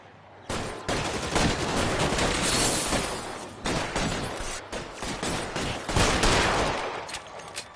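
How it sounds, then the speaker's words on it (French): Heavy gunfire in L.A. Noire, a dense continuous barrage of close, loud shots rolling on for several seconds with sharp individual cracks rising out of the roar. "Mais t'as tiré 2 balles là"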